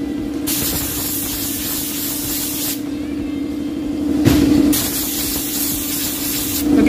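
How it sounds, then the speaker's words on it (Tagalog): Compressed air hisses in steady blasts over the CVT parts of a Honda Click V3 scooter, a close, loud spray broken by two short pauses, with no talking. "Hanginan lang natin mga bok."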